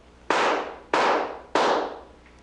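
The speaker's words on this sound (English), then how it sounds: "I'd like you to squeeze off 3 shots" Three loud revolver shots fired into the air during a magic act, evenly spaced about two-thirds of a second apart, each a sharp bang with a decaying tail and no talking.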